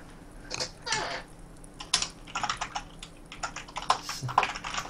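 Rapid clicking keystrokes on a computer keyboard, typed in uneven bursts with short pauses, close and fairly loud with no talk.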